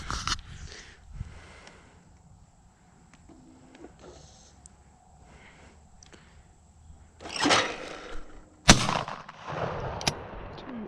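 Shotgun blasts ring out with echo at an outdoor shooting session, two or three sharp reports spread across a quiet stretch with faint background noise and no speech.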